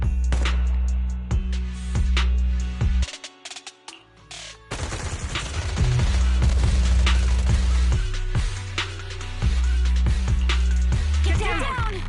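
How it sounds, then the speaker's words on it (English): Rapid bursts of automatic gunfire crackle repeatedly, loud and close, with a brief lull midway before the shooting resumes under game sounds. "Gunfire? This pattern. Suppressive marching fire."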